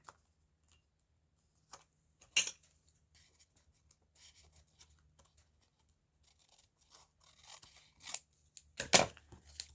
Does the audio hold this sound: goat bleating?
no